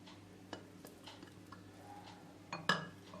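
A spoon scrapes thick, sticky honey out into a cup with soft, quiet scraping, followed by a sharper clink of metal against the cup near the end.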